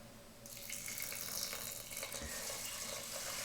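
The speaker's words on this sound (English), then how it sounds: "we're going to add 1 3/4 cup of water" Tap water pours steadily into a pot of washed sushi rice, a continuous close splashing hiss with no talk.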